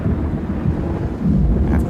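A 1925 storm battering the airship Shenandoah over Ohio at dawn: a deep, continuous rumble of thunder and wind, loud and close, swelling toward the end.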